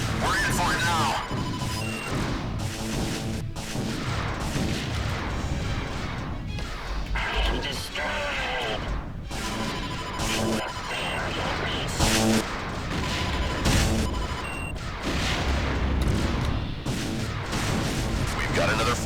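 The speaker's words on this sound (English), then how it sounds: "I'm just gonna shoot." Ship weapons fire in rapid volleys during a space dogfight in Wing Commander Prophecy, with dense bursts, crashes and explosions amid loud battle music and radio chatter, near and continuous.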